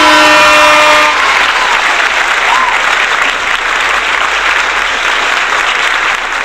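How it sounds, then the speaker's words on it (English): A crowd at a political interview event breaks into loud, sustained applause. The dense clapping carries on steadily after a brief tonal sound at the start. "Can we get a round of applause for Mark Golding?"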